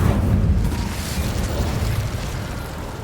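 Incendio fire spell cast in Hogwarts Legacy, a continuous roaring whoosh of flame with a low rumbling burst, loud and close, sustained for about three seconds with no talk.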